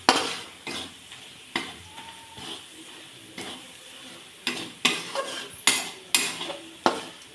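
Masala for paneer bhaji roasting in hot oil while a spoon scrapes and clanks against the pan in an irregular rhythm. A soft sizzle runs underneath the close stirring strokes, and no one speaks.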